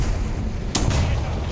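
A Churchill AVRE tank's gun fires once in a video game, a single loud boom with a sharp crack midway through, over steady low engine rumble.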